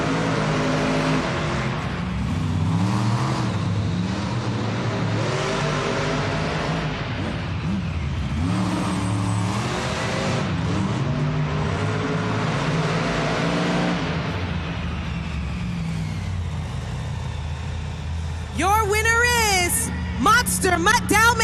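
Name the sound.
monster trucks revving and racing in an arena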